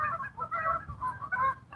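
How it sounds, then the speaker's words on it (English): Geese fly overhead at an outdoor fishing spot, honking repeatedly in overlapping calls that carry clearly without any talk over them. "We had some geese fly overhead, folks."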